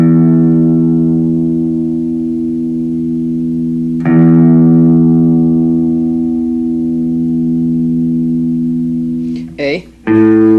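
Low E string on an electric guitar being tuned, a sustained rich harmonic tone ringing with effects, re-plucked once midway and cut by brief bending notes near the end.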